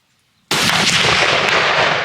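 A rifle that had sat unfired for years goes off once on a farm field, a sudden loud close blast with a long rolling tail and no voices.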